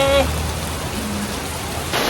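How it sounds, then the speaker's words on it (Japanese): Heavy rain pours steadily in Cali, Colombia, heard from a hostel shelter as a dense, constant hiss, with a brief voice at the very start. "もうねこの雨きつすぎるわ"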